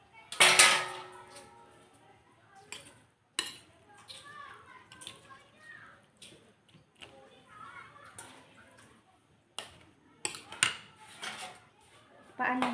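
Pechay Baguio salad is mixed in a bowl, with clinks of a utensil against dishes and soft scraping, intermittent and close, while a person talks quietly between the sounds.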